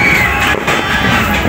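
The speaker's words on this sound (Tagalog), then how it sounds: "Kasi marami nang paputok dito mga Indians." Belt-style firecrackers exploding for New Year 2022: a dense, loud, continuous crackling barrage with no pauses, close by.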